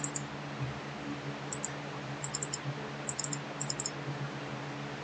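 A computer mouse clicks in quiet, scattered bursts, some single and some in quick doubles, faint against a low room hum.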